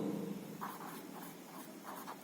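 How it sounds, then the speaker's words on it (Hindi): Marker or chalk scratches across a board as a quadratic equation is written out for a Class 10 maths lesson, giving a few short strokes over steady room hiss. "तो मैं यहां लिखता हूं उसको"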